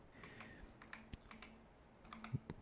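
Computer keyboard keys, the W, A, S and D keys, tapped at an irregular pace while moving through a Blender scene, quiet close clicks with short pauses between presses.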